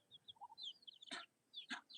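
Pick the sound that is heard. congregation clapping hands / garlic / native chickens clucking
native chickens clucking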